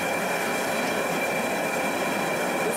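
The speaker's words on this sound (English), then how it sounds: "this is my makeshift wok burner. You can hear it in the background." A makeshift gas wok burner roars steadily under a Mandarin wok, a constant broadband rushing hiss with a faint tonal whine, unbroken and fairly loud throughout.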